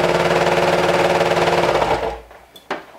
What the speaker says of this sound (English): now we're going to stitch the inseam with a 1/2 inch seam allowance